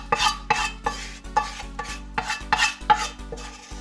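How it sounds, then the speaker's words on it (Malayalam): A spoon stirs the fried onion mix into Kerala-style pal kappa, tapioca cooked in milk, in about eight rhythmic scraping strokes against the pot, each a short close swish followed by a pause. "അതിനുശേഷം നന്നായിട്ടൊന്ന് ഇളക്കി യോജിപ്പിക്കുക കേട്ടോ"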